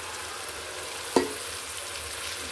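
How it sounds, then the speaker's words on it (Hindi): Steady, hissing sizzle of masala frying in a pan as chickpeas are added, with a single soft thump partway through before the frying noise carries on evenly. "अब इसमें ही मैंने चने डाल देने हैं।"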